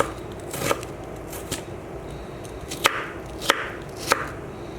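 A knife cuts radish into long strips on a cutting board for pickle, giving crisp, sharp chopping strikes, irregularly spaced, about eight distinct cuts, close and fairly loud.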